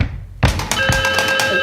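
A telephone rings with a steady electronic tone that keeps going and stays fairly loud, following a short thump, in a comic French-language sketch.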